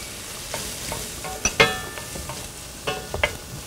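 Collard greens, bacon, onions and garlic sizzle in a pan with a soft, steady fry, broken by several sharp clinks and scrapes as a utensil stirs them.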